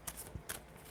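Tarot cards being shuffled by hand, a quiet papery riffle in a few quick bursts with short pauses, close and soft in a still room.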